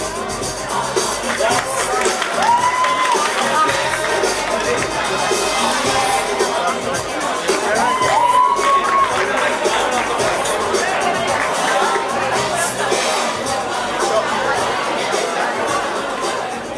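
A large crowd at a school coronation ceremony, steady loud cheering and chatter throughout, with a voice talking over the hubbub.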